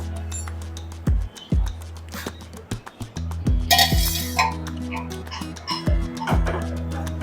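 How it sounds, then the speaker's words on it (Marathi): Metal clinks and scrapes ring out as the lid comes off a pot of bhurji masala, with several sharp taps, a short clattering burst in the middle, and a low steady hum underneath. "पाच सहा मिनटं झाले झाकण काढूया"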